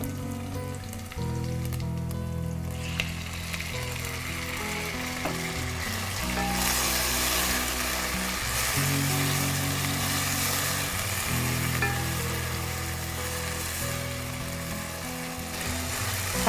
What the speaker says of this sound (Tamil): வெங்காயம் வதங்கிடுச்சு, இன்னும் தக்காளி போடலாம்.